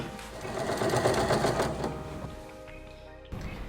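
Sewing machine stitching culottes fabric, running steadily with a fast, close mechanical whirr, then slowing and stopping before a brief restart.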